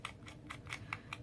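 Fingernails scrape at the corners of a paper stamped card, five or six quick, faint scratchy strokes in an even rhythm, close and quiet with no talking.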